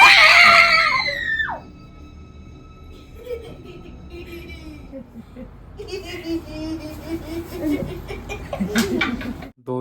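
People scream in fear during a midnight ghost-summoning prank game, a shrill burst at the start followed by agitated yelling and shouting voices that rise and fall over several seconds.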